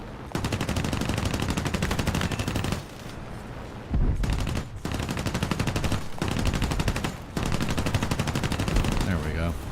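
Video game aircraft machine guns hammer away in sustained rapid bursts at a Spitfire, each burst a few seconds long with short gaps between, loud and close.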